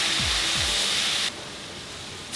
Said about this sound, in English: that meat is now starting to cook in the pan with the onions